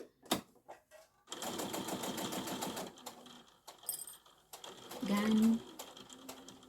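Sewing machine stitching an apron bib piece, running in close, rapid bursts of mechanical clatter, stopping and starting again as it backstitches, with a brief spoken word between runs.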